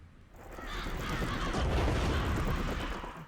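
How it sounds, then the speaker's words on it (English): Murder Crows emote in the video game City of Heroes, a swelling noisy rush of cawing and flapping that builds over a few seconds and fades slightly, dense and loud without speech. "I'm going to change my emote to Murder Crows."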